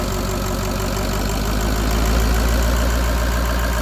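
A Ford 6.0 Powerstroke diesel idles on an engine test stand without coolant, its loud, steady low rumble carrying a rhythmic diesel clatter that swells slightly as it creeps toward high idle.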